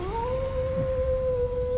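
A wolf's sustained howl in the video game Trails Into Reverie holds one steady, drawn-out tone over a low rumbling game soundtrack.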